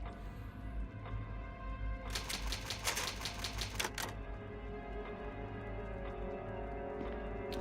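Typewriter save sound in the Resident Evil remake video game: a quick burst of rapid mechanical key clacks lasts about two seconds, then a soft ding-like tone over a low ambient game hum.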